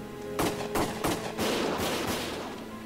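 Rapid, loud bursts of gunfire in the Valkyria Chronicles video game, several cracks at a time over a steady rumble of battle noise.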